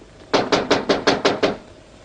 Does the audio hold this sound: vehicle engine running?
no